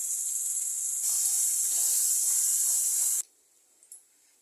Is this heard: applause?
no